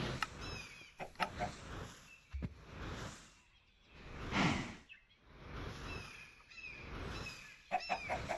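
A Minecraft chicken clucks repeatedly through the stretch, its short bird calls interspersed with a few clicks and broader noisy swells of game sound, fairly close and clear, without speech.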